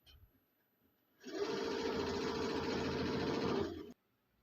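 A boutique sewing machine stitches a decorative design in one steady, continuous whirring run of about three seconds. It starts and stops abruptly, with only quiet room noise on either side.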